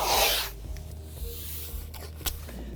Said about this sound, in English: So the first thing we do is we just want to put this blue tape